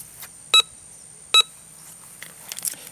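A Bounty Hunter Quick Draw II metal detector sounds its copper tone: two short, clear beeps about a second apart, loud against faint background hiss, with small rustles near the end.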